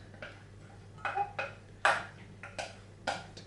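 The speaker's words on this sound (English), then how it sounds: "I'm just going to tip all of that in, using a bigger spoon this time" Pasta tipped from a bowl into a bigger container with a big spoon, giving several light clinks and scrapes of spoon on dish in an irregular rhythm, fairly close and quiet.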